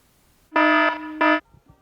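A timer alarm goes off with two loud, close electronic buzzing tones, the first longer and the second shorter, separated by a tiny gap, then silence.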